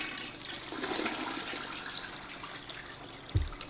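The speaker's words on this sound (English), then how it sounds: "I flush and then roll over onto the floor." A toilet flushes in the Dysfunctional Systems video game, a quiet rushing gurgle of water that runs steadily and ends in a soft thump.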